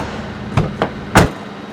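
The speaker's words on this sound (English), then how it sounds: "I can still open the back door" Rear door of a VW Crafter motorhome being worked, with three sharp knocks and clunks of the latch and door close by, the last the loudest, over a quiet background.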